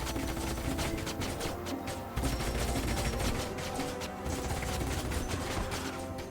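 Units open fire in the strategy game Age of Wonders: Planetfall, a dense, continuous burst of rapid gunfire and mechanical clatter running loud throughout with only brief dips, no voices.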